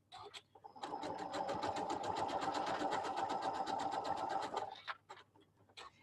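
A Janome sewing machine runs a fast, open decorative stitch, a steady close mechanical whirr with rapid needle ticks for about four seconds, stopping abruptly, with faint clicks before and after.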